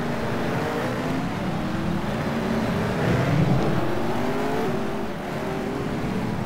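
Several race cars in a video game run together at a steady, continuous drone of engines that swells slightly midway, with no voices over it.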